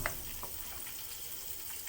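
Shallots sizzling in butter that is still melting in a pan, a steady close crackle and hiss with small pops throughout.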